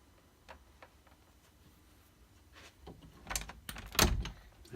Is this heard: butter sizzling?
no